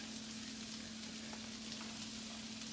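Vegetables frying in melted butter in a pan, a steady dense sizzle with a constant hum underneath, close and unbroken, no talk.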